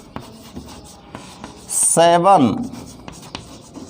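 Notes being written by hand, with a soft scratching of pen strokes running steadily in the background while a voice speaks in Hindi over it.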